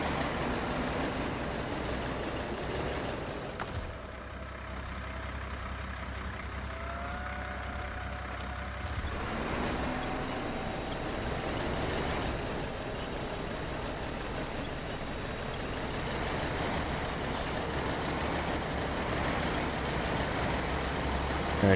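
A Mack truck in a driving video game rumbles with a steady, heavy engine drone, broken by sharp hissing air-brake releases near the start and again later on.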